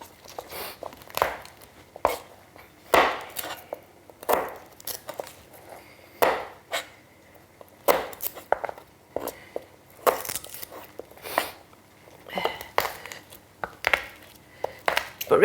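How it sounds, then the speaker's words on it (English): Garlic chopped by hand with a knife on a board, repeated sharp close chops in irregular bursts with short pauses between them, no talking. "I've never found a garlic press that works, so I always chop it myself."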